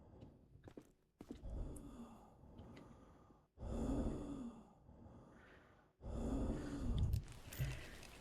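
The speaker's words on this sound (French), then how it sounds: "Il y a la respiration d'asthmatique." Labored, asthmatic breathing from a patient in the Quarantine Zone video game, several heavy wheezy breaths in irregular bursts with brief pauses, close and breathy.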